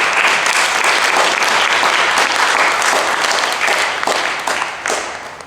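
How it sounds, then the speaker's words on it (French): A church congregation applauding to encourage the preacher, loud and steady clapping from many hands that thins and fades toward the end. "Est-ce qu'on peut acclamer pour m'encourager un peu"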